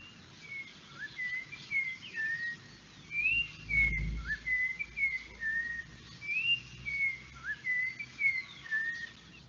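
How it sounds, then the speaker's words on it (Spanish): A toche, a resident wetland bird, sings a series of clear, fluting whistled phrases, repeated in bursts with short pauses, alone and fairly close against quiet background. "Escuchemos el canto de otra especie residente, en este caso que es el toche."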